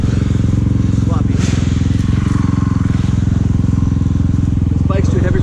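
A dirt bike engine laboring on a muddy dual sport trail in the Upper Cumberland Falls area, a loud, close, rapid thumping putter held steady, with brief voices and clatter over it.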